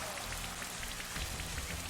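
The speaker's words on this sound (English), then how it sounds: "Here comes the rain. Feel its coldness soak into your body." Steady rain falls throughout the weather effect in Pokemon Shield, a continuous dense wash of patter with scattered drop taps, even and unbroken with no voices.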